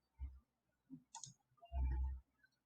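A computer keyboard clicks close and clear, a few light isolated key taps followed by a heavier thump of the Enter key, in a quiet room.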